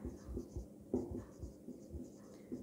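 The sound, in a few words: teacher writing notes on a board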